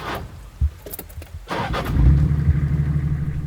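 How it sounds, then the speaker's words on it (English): A stuck cruiser on an abandoned track in a storm turns over and revs, a short start followed by a steady, rising engine drone, close and moderately loud. "I gave the cruiser a bit of juice to see if all my work in packing rocks around the tyres had done anything"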